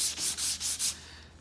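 Flexi filler being hand-sanded smooth before colour restoration, heard as four or five steady back-and-forth rasping strokes, close and even, fading at the end with no talking.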